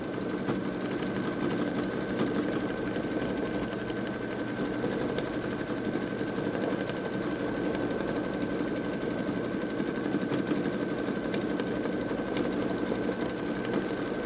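A Babylock Solaris Vision embroidery machine stitches stars across the brim of a hat, a steady fast mechanical whir with a constant high hum running unbroken and close throughout.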